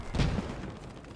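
Machine gun fire in the World War II shooter game Post Scriptum, a short muffled rattling burst that sounds distant, with low booming rumble underneath and no talk.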